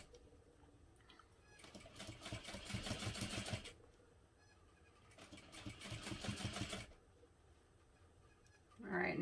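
A domestic sewing machine back-stitches a tote bag handle in two short bursts of rapid, close stitching, separated by a quiet pause, with a brief noise at the very end.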